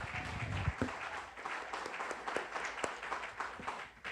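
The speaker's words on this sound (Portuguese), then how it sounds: "Aplaudamos o Senhor." A church congregation applauds in a loose, uneven patter of many hands, with a few sharper claps standing out, heard at a moderate distance in a reverberant room.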